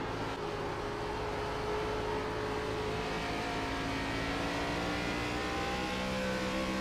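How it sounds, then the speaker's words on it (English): A Gen4 cup series race car engine at Iowa under gentle throttle, a continuous buzzing drone with slowly rising and overlapping tones, steady and fairly close, no talking. "Hear that throttle application"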